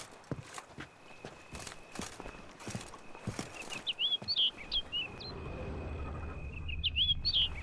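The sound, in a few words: bird calling in The Witcher 3: Blood and Wine video game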